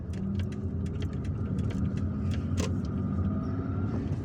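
A car drives through city streets in Algiers, leaving El Madania by road, with steady engine and road rumble throughout and scattered clicks and mechanical ticks, no talking.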